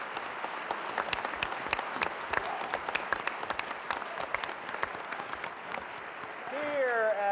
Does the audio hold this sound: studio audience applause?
yes